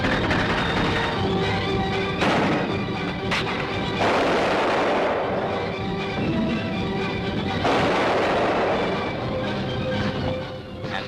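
Supporting gunfire and mortar fire during a Royal Marines left-flanking assault up a ridge, with smoke cover from the mortars: a continuous loud roar of firing with heavier bursts swelling in, sustained throughout with no speech.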